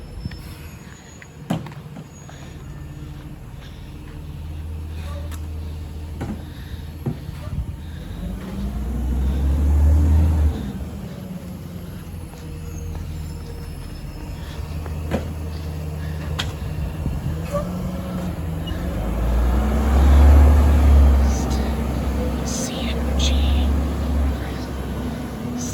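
A CNG-powered Freightliner M2 garbage truck with a Leach 2R-III rear loader collects residential compost, its engine droning low and steady, swelling louder twice as the packer works, with light clanks and knocks over the rumble.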